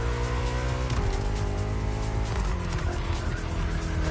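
BMW M car in the racing game The Crew Motorfest revs hard with rising and dropping engine pitch across gear shifts, loud and close, with brief tire squeal mixed into the engine roar.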